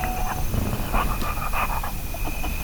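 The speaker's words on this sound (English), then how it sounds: "it's just a dog biting on a chew toy." A dog gnaws and chomps on a chew toy up close, with soft panting and small squeaky whimpers over a steady background hum.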